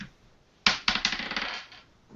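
A six-sided die tossed onto a table, a sharp first impact followed by a quick rattling series of smaller bounces and clatters that fade out within about a second, close and clear with no talking.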